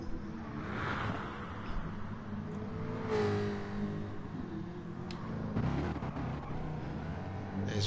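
Cars, a Mustang among them, driving around at an evening event in Tokyo, a soft, fairly distant engine rumble with a swell of revving and passing noise in the middle and scattered clatter over the low hum.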